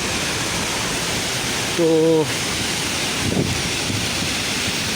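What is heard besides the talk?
rushing water of a large waterfall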